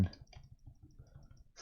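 Keys clicking at a steady run on a computer keyboard, entering a search inside an Age of Wonders: Planetfall game, soft and close with a faint background hum.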